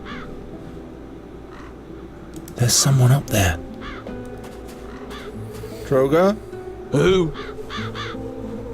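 Crows caw loudly several times in the video game The Dark Eye: Chains of Satinav, sounding close over quiet ambient music, while voices talk in between.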